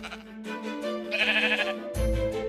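Sheep in Minecraft give a few close, nasal bleats one after another, with a louder bleat standing out near the end and no one talking.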